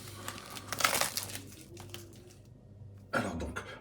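Packaging of a Mondo Oppenheimer soundtrack vinyl edition crinkles and rustles close up in bursts, with a louder crumpling flurry early on, a quieter pause, then another sharp crinkle near the end.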